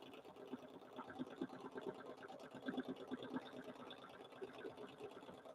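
A sewing machine stitches a small meander quilting pattern on a fabric mug rug, running in a quick, rapid mechanical patter with slight speed surges, close and steady for the whole stretch.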